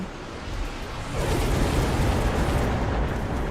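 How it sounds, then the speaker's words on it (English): A missile strikes in a video game, a loud rumbling explosion that swells after a second and roars on as a broad, sustained blast with no speech over it. "Missile hit before the shield arrived, which is good news for us."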